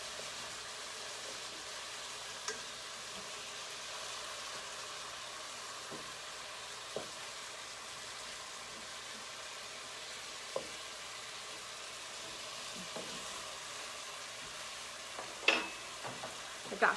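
Herb-seasoned chicken pieces searing in a pan, a faint steady sizzle with a few soft clicks and taps from tongs turning the meat.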